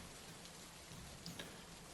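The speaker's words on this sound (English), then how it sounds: "the rain has started to pick up" Steady rain falls with a constant soft hiss and a few faint drip ticks, quiet and even throughout with no talking.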